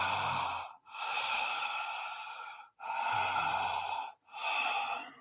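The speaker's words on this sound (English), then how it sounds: "Now keep breathing, Leah. Keep breathing. Full and steady." Deep, full breaths from a guided breathwork session, each long airy inhale or exhale separated by brief pauses, close and loud with no talking.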